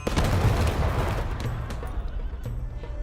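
Soldiers shoot in a dense, continuous burst of gunfire, loud and close, with overlapping shots rolling together and trailing off slightly toward the end.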